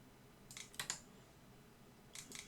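A few quick key presses on a computer keyboard, two clustered clicks near the start and another pair at the end, soft and close in a quiet room.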